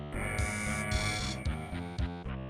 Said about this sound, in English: the alarms are going to be blaring the whole time